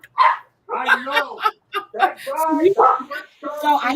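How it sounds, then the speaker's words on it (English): Dogs bark, yip and whimper close by in short, uneven bursts. "We got dogs barking"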